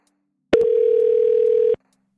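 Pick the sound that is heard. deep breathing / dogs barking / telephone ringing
telephone ringing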